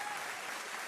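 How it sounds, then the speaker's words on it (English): An audience claps for a guest during a live sports news talk show about the Colorado Buffs, a brief, dense burst of steady applause with no voices over it. "Y'all want to clap for Travis Hunter back there?"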